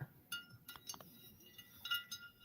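Milk glass pieces clink lightly against one another as they are handled, several brief bright taps scattered through a quiet room with no talking.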